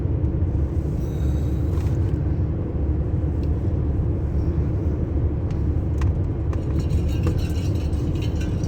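Inside a car cruising along a country road at night, a steady low road rumble and engine drone carry throughout. Faint clicks and ticks from the cabin come through near the end.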